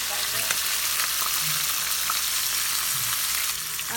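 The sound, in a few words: marinated meat frying and being stirred in a pan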